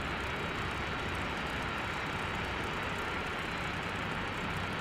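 Steady, dense roar of a Spitfire's piston aircraft engine in the DCS flight simulator, running continuously and close without pause or talk.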